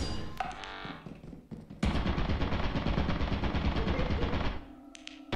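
Turret machine gun fire in a video game: a few short bursts, then a loud, sustained stream of rapid automatic shots that stops abruptly, close and dominant.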